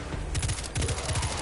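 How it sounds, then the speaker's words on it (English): Rapid bursts of gunfire from a pulse rifle in the shooter game Destiny 2, several tight three-round volleys with short gaps between them, loud and close, with no talking. "this is a pulse rifle. It fires basically bursts."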